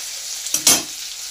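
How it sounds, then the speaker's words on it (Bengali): Paneer fries in a pan with a soft, steady sizzle, broken by a couple of brief louder stirring scrapes near the middle. "তো পনিরটা আমি ভেজে নিচ্ছি বন্ধুরা"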